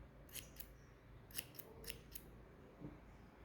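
Small scissors snip yarn while a crocheted amigurumi Santa Claus is trimmed, several crisp, close cuts in quick irregular pairs that stand out over a quiet room, with no speech.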